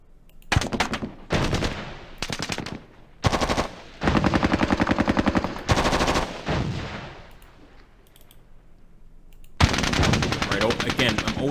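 Automatic and rifle gunfire crackles in loud, dense bursts separated by short gaps, with a sustained volley toward the end, during a US jungle patrol firefight with the NVA in the Squad Battles Vietnam war game.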